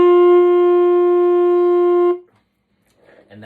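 A saxophone holds one steady, clear D note for about two seconds, then cuts off, leaving near silence with faint noise after.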